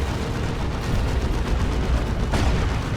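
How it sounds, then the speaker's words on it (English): Autocannon fire against a Predator tank in the Warhammer game Dawn of War 2 during a Space Marines versus Chaos Space Marines battle, a dense rumbling barrage of shots and impacts with one sharper crack near the end. "Autocannon getting shots on that Predator tank"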